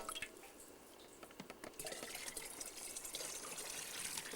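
Water being drawn up from a well shaft, faint dripping, splashing and trickling at a distance, growing into a steadier pouring spill toward the end, with no talk.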